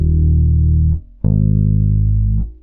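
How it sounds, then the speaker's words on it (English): An electric bass detuned a half step down to E flat plays long sustained low notes, with a brief gap and a fresh plucked attack between them, close and clean with no talking. "So your bass should sound like this."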